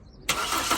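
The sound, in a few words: Toyota Corolla engine cranking and starting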